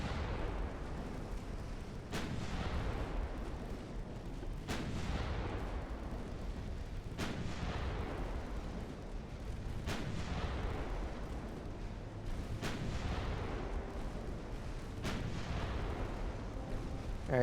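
9-inch naval guns firing in the warship game Ultimate Admiral: Dreadnoughts, six heavy booming shots spaced a few seconds apart, each followed by a long rumbling decay over a constant low background roar.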